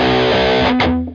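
Grungy, heavily distorted electric guitar chugging on a low B string in a rock tone, one loud sustained chord that cuts off near the end, played alone.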